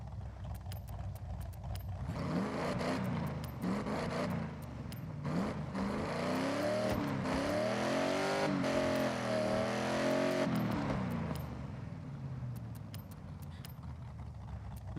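A car with its stock engine in the video game Forza Horizon revs and accelerates, a steady droning engine whose pitch climbs and falls through several gear changes, loud and continuous.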